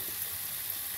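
Pork, peppers, onions, shallots and garlic sizzle steadily in hot oil in a pan, a dense, even crackle that stays close and constant throughout with no voices over it.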